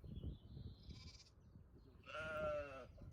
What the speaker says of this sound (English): to be greeted at the end of the lane by the ewes with their precious little lambs